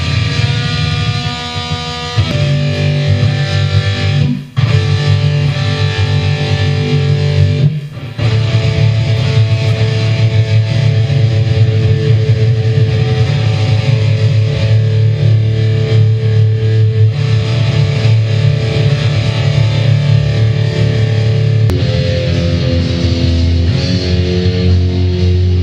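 Distorted electric guitar playing open strings as the B string is brought up toward E, sustained droning notes with a few short gaps, loud and alone.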